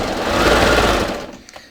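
A serger sewing machine runs briefly at speed, chaining off thread after the presser foot is lifted and the needles lowered, a close, steady buzzing whir that stops abruptly, leaving a few faint clicks.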